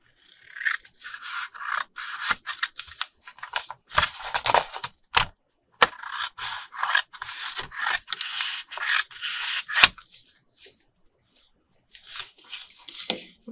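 Repeated scraping snips of scissors cutting 12x12 paper for journal covers, close and crisp, in bursts of papery rasping separated by short pauses and a few sharp cracks.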